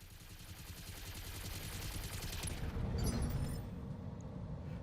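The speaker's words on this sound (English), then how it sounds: "give him a good kick, and unload with the machine guns" Mech machine guns fire in the BattleTech video game as a dense, continuous rattle of rapid shots that builds slightly and then eases, loud and close, with no voices.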